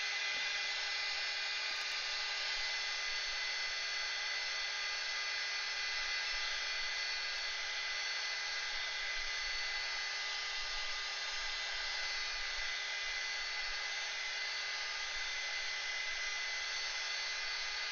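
A hair dryer blows steadily and loudly over coloured artwork, a constant close whir that holds unchanged throughout with no voices.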